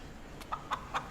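A chicken in Destiny 2 gives a few short, faint clucks, about three spaced bursts over a quiet game background.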